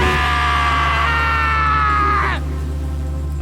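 A long, sustained scream in the visual novel game Danganronpa rises and holds before dropping off abruptly, over a steady low background drone.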